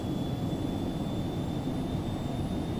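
Steady, loud jet roar from the twin engines of an Embraer Phenom 300 on its takeoff roll in a flight simulator, a constant broadband rumble with a thin high whine over it and no talk.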